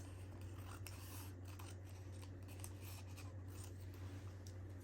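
Scissors snip through excess card stock at close range, a run of quiet crisp cuts over a steady low electrical hum.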